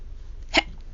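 A single short, abrupt hiccup imitated by a narrator's voice, close and clear against near silence.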